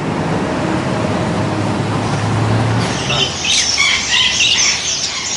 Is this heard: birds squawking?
yes